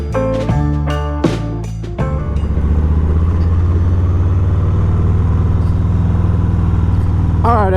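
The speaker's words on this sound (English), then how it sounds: "we are out on the 2022 Harley Davidson Softail Street Bob, taking a little cruise through the lovely streets of Philadelphia" A 2022 Harley-Davidson Softail Street Bob 114 rumbles along city streets in Philadelphia, a steady low engine drone building after a few sharp musical hits at the start.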